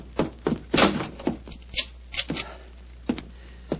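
A radio-drama door being locked: a string of close, sharp wooden thunks and metallic clicks, irregular and separated by short pauses, with no voices over them.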